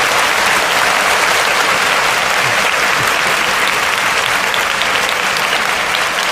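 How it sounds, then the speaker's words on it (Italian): Sustained applause from an audience greeting interview guest Loris Reggiani, a motorcycle racer, with steady dense clapping filling the whole stretch at close range and no talk over it. "Iniziamo prima di tutto dedicandoti un applauso."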